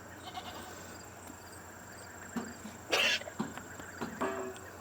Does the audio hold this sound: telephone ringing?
no